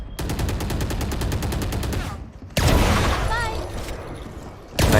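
Rapid bursts of automatic gunfire crackle through a ranked online shooter match, a sustained volley followed by another after a brief pause, with players chatting over the shots.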